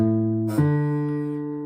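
Electric guitar strings pressed fully down at the fifth fret ring out as a sustained, harmonically rich note that shifts pitch once about a third of the way in, then decays slowly, close and alone without talk.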